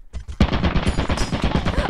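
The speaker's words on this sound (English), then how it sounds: "I thought that I could turn on the turret to kill the other thing in front of it." Rapid automatic gunfire from a turret in the video game Lethal Company, a dense burst of close, loud shots that starts abruptly and hammers on steadily to the end.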